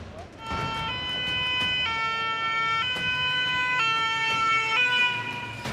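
A fire engine's two-tone siren wails loud and close as firefighters arrive at a blaze after a drunk-driving crash in the Bouches-du-Rhône, the high and low pitches alternating in a steady rhythm about once a second over road noise.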